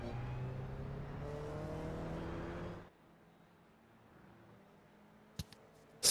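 Race cars in the iRacing sim at Virginia International Raceway, engines droning steadily and loud for about three seconds before cutting off abruptly, leaving a quiet hum with a couple of short sharp clicks near the end.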